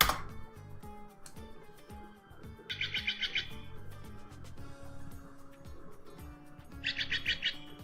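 Steller's jay calls play back in two short, harsh chattering bursts, loud and clear above a low musical backing and steady background tones, with no talk.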